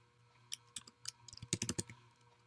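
Fingers tap out a quick burst of clicks on a computer keyboard, close and quiet, in irregular clusters that grow denser toward the end, with no talking.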